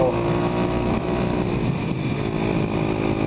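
A Kawasaki KLX250SF supermoto motorcycle ridden offroad during an ATV poker run drones loudly and steadily at close range, its engine buzzing continuously with slight wavering and rumble from the rough ground.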